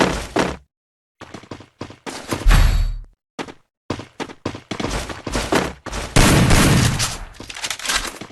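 Pump shotgun blasts ring out in a Free Fire battle, one after another with short gaps. The shots are loud, close and punchy, with a few heavier booms mixed in, and no talk over them.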